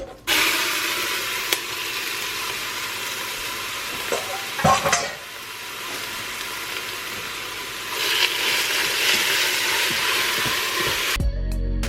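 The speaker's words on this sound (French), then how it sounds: "Je vais faire revenir toute ma viande et ma chair, comme ça." Meat and flesh browning in the hot base of a multicooker pot for batch meal prep, a steady close sizzle with stirring and a brief clatter of utensil against the pot partway through, no talking.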